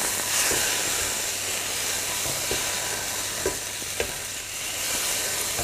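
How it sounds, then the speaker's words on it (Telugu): Fresh tofu sizzles in a hot pan, a dense continuous hiss close by, with a few soft knocks and stirring taps scattered through it and no speech. "ఈ ఫ్రెష్ టోఫు ఏదైతుందో ప్యాన్కి తగిలి అది తొందరగా సిజిల్ అవుతుంది"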